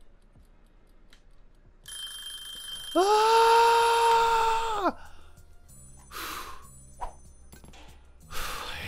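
A kitchen timer in the Cooking Simulator video game rings loud and steady for about two seconds, a bright, even electronic alarm tone, then stops; a short exclamation and a few soft clicks and game sounds follow.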